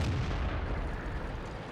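A T28 HTC tank's cannon shot in World of Tanks booms loudly and rolls into a long, rumbling low decay that fades gradually.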